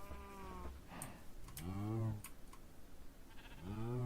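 Sheep of different colors bleat in the Minecraft modpack Create, several wavering calls in succession, close and clear, with faint clicking between them.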